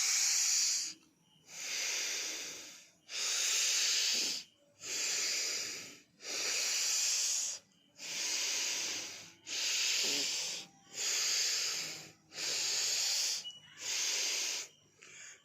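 Kapalbhati breathing exercise: about nine long, forceful hissing breath bursts in steady rhythm, each lasting roughly a second with brief silent gaps between, close and clear with no talking.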